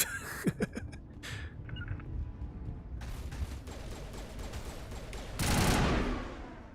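Rifle gunfire from the video game Mass Effect sounds as bursts of rapid shots over background game noise, fairly faint, with a louder final burst near the end.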